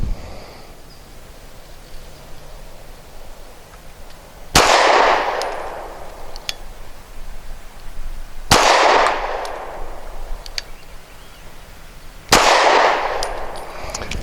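Walther PPS M2 pistol firing hollow point rounds: three loud, sharp gunshots spaced about four seconds apart, each with a quick ringing decay over a quiet outdoor background.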